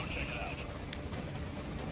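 Enemy helicopter in Metal Gear Solid V, a steady rotor drone filling the clip in a continuous wash of noise, with no pause or break.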